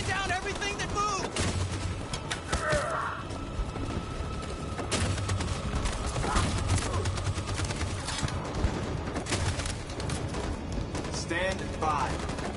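Machine gun fire in the video game Detroit: dense, rapid bursts of automatic shots with booming impacts, close and loud throughout, mixed with battle noise and shouted voices.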